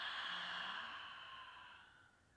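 A single soft, breathy exhale during a core exercise, close and quiet, fading gradually over about two seconds.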